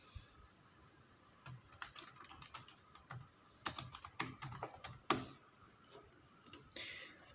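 Someone types a name on a computer keyboard, producing close, irregular clusters of sharp key clicks separated by short pauses, with no talking.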